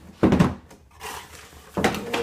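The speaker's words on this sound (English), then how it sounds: "Let's knock the camera over as well" A camera knocked over while a boxed LEGO UCS Darth Maul set is opened: two sharp thuds about a second and a half apart, with a rustle between them, close and loud.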